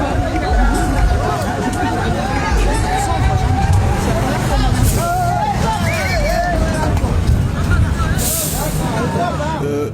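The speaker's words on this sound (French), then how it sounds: "Un camion arrive et tout de suite." A truck arriving amid a busy crowd, its engine rumble and a hiss of air brakes under constant loud babble of many voices talking close by.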